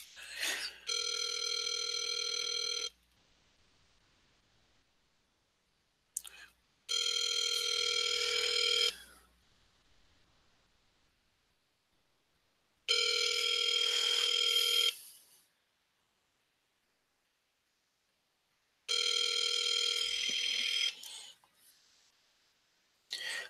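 Ringback tone of an outgoing phone call, four clear rings in a steady pattern, each burst about two seconds long with silent gaps between, heard alone through the line.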